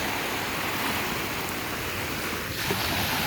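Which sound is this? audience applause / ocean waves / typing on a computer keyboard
ocean waves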